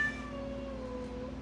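A pet cat gives a drawn-out, wavering meow close by, a single sustained call over a steady low indoor hum.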